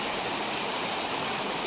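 River water rushes through a stream in Desa Repakeng, a village where gold is mined from the riverbed, making a loud, steady broadband hiss of flowing water with no pauses or voices.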